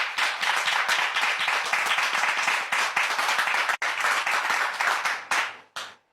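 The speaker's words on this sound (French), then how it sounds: "je voudrais demander à notre public d'acclamer le Seigneur" A church congregation applauding, with loud, dense, steady clapping that runs for several seconds, breaks off briefly, resumes and then stops with a last short burst.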